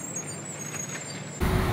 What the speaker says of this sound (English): Buses.